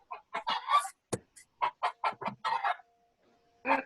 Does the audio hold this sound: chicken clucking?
yes